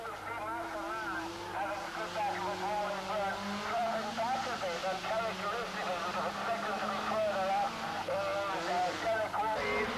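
Racing cars, a BMW among them, drone steadily through a 1989 Irish Motor Racing Club meeting at Phoenix Park in Dublin, with engine whine wavering continuously throughout. A commentator talks over the engines the whole time.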